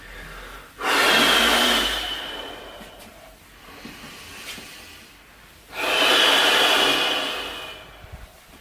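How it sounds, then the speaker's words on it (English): Two long, deep breaths during a gentle guided exercise, each a loud airy hiss lasting a few seconds, close up, separated by a quieter pause with faint room noise. "Some nice breathing, especially focusing on the outer breath"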